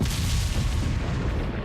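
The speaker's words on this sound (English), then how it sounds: "Fire the cannon." Heavy cannon blast in the Resident Evil 4 video game, a loud, dense boom with rumbling low end that fills the whole moment without letup, no voices over it.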